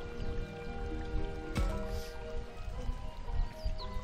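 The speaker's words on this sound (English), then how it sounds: "If I listen closely, I can hear the sound of a babbling brook." A babbling brook in Digimon Survive, a soft continuous trickle and splash of flowing water with scattered drips, moderately quiet and steady under a faint tonal hum.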